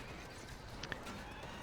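A horse whinnies briefly in the video game Battle for Middle-earth II, small and distant within a dense, roaring wash of battle noise.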